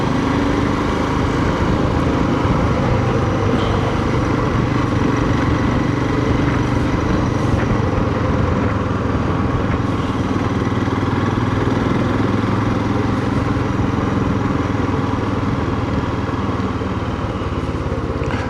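Royal Enfield Himalayan motorcycle being ridden, a loud steady single-cylinder engine drone mixed with heavy wind rush, continuous throughout with no talking.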